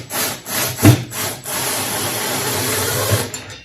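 A hand screwdriver drives screws into the wood of a virtual pinball machine cabinet, making a close, continuous grinding rasp with a few uneven scrapes at the start.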